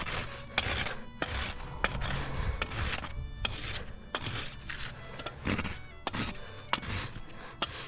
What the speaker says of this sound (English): Smooth it with my rasp